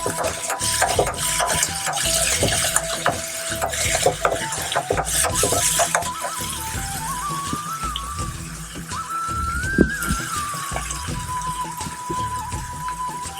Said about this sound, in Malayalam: അപ്പോൾ ഈ ഒരു 3 സാധനം കൂടെ നമുക്ക് എണ്ണയിൽ കടന്നിട്ട് നന്നായി ഒന്ന് വഴറ്റുക